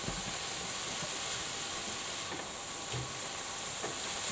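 Rice and vegetables stir-fry in a hot pan, producing a steady, dense sizzle and hiss with occasional soft stirring knocks, heard up close with no talking.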